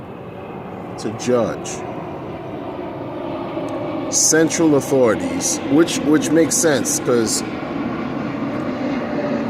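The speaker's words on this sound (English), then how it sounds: "I apologize for the noise up above, it's planes and stuff." Aircraft pass overhead at a low, steady roar that runs under someone talking outdoors, with a few brief higher chirps near the middle.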